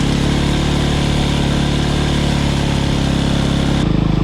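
A dirt bike engine drones steadily at close range as it rides through knee-high soybean rows, a continuous loud mid-pitched motor hum with a slight shift in tone near the end.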